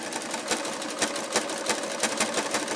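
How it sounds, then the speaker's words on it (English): A sewing machine zigzag stitches strips of batting together, whirring steadily with a close, fast rhythmic patter and slight regular surges in loudness, no voices. "just press them together and zigzag stitch them as you go along"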